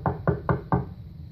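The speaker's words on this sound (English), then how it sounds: "So Finnerty knocked again." Four evenly spaced knocks on the door of a mayor's house, close and firm with a quick steady rhythm, then silence.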